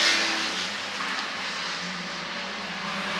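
Race cars roaring down the front straight of a circuit, a steady loud broadband engine drone sustained throughout with no pauses.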